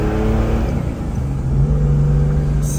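Steady engine drone of a car with 500,000 km, heard from inside or nearby, a loud continuous hum with a low tone that rises slightly partway through, no voices.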